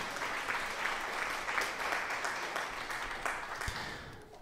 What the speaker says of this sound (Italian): Applausi, applausi, tutti e tutti.